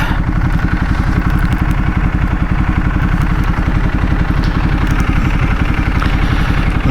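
A motorcycle engine idles close by in a car park, a steady low rhythmic chug that continues evenly and alone.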